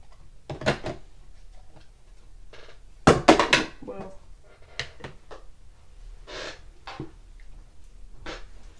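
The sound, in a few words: Ranger dye ink bottle lid dropped on floor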